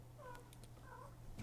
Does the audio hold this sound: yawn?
no